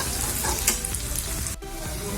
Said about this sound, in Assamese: গেছ অন কৰি আদা নহৰু পিঁয়াজ জালুক এইখিনি গোটেইখিনি মোটামুটি ভজা হৈ গৈছে